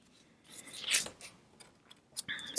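Scissors cutting a watercolour greeting card close up, making a few quiet crisp snips and rustles of paper, louder around the middle and again at the end.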